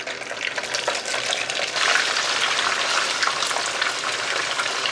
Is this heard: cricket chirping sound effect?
no